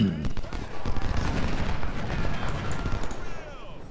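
Artillery shell fire rumbles across a battlefield in the Civil War strategy game Ultimate General: Civil War, a dense continuous roll of distant booms and crackling blasts with no clear gaps.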